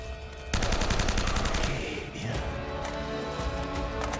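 Rapid automatic gunfire during a firefight against a sniper in Uncharted: Drake's Fortune, a dense, steady rattle of shots that starts abruptly after a brief lull and keeps going without a break.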